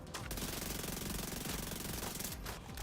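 A weapon in The Division 2 fires in a rapid, unbroken automatic burst, a dense close rattle of shots lasting nearly three seconds before tailing off.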